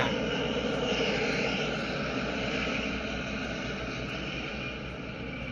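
A jet airplane roars overhead in a steady, broad wash of engine noise that fades slowly, loud and continuous, with no talking.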